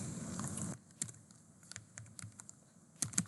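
Quick bursts of keystrokes on a computer keyboard, clicking out a short word in uneven clusters with pauses between, close and fairly quiet over a faint background hum.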